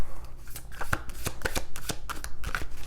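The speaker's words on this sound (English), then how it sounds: "I kind of want to pull some cards on this." Tarot cards are shuffled by hand in a run of quick, crisp riffling snaps and taps close up, with no voices.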